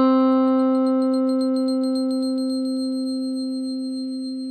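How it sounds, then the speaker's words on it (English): A single sustained guitar C note processed through Guitar Rig 5 effects, ringing steadily with a bright, bell-like shimmer of pulsing upper overtones and slowly fading over several seconds, alone with no talk. "Here I've recorded a C note from my guitar just to make this patch more playable later"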